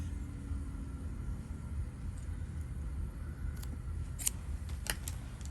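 Beading thread snipped with small scissors while making a navette bracelet, with a few brief, crisp cuts near the end over a low, steady background rumble.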